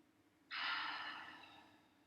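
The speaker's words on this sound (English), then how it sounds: "Take 5 more breaths" A single deep breath during yoga practice, a soft, airy exhale that starts abruptly and slowly tapers away, close and quiet against a faint background.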